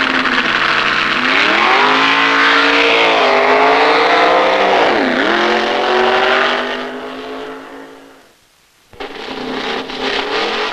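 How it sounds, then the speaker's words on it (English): A 1960s drag racing car blasts down a quarter-mile asphalt strip at Atco, its loud engine note sweeping up and down through gear changes before the roar drops away briefly near the end and then resumes. "every car that goes zipping along this asphalt band-aid"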